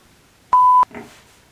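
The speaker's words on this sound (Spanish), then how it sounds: "Un WhatsApp." A phone plays a WhatsApp message notification as a single loud, clean electronic beep lasting about a third of a second, followed by a short soft rustle.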